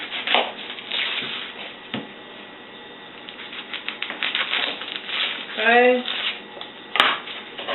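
A knife slices the ends off an onion on a cutting board, a few distinct knocks and scraping cuts spaced apart, with a person speaking briefly.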